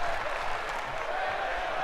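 A wrestling event crowd cheers and sings in a steady, dense roar of many voices that fills the space, with no single voice standing out.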